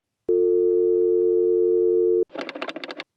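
A steady, loud telephone dial tone hums for about two seconds after a call drops, then gives way to a short burst of rapid, choppy electronic chatter.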